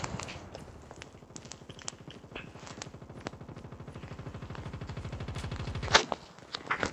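Video game gunfire with rapid automatic bursts in a fast, even rhythm, building steadily and ending in a sharper crack. It is moderately loud and has no talk over it.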